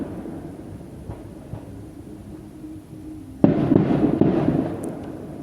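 Bastille Day fireworks over the lake at Évry-Courcouronnes, heard from about 300 metres away: a faint distant rumble and scattered thuds give way to a sudden dense barrage of crackling bursts, no voices.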